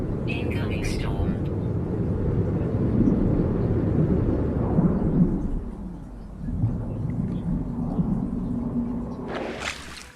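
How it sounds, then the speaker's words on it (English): A storm rolling in on a planet in the video game No Man's Sky brings a low, continuous thunder rumble that swells and eases, with a brief rising noise at the end. "Incoming storm."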